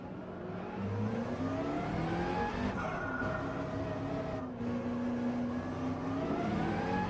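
A McLaren race car in Gran Turismo 7 runs warm-up laps, its engine whining and revving steadily with rising and falling pitch through gear changes, close and continuous.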